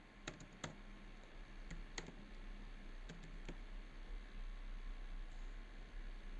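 Someone types an email address on a computer keyboard, giving a quiet run of sparse, crisp key clicks spaced irregularly over a low steady background hiss.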